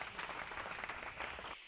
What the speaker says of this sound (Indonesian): tepuk tangan yang paling meriah dulu bagi Allah kita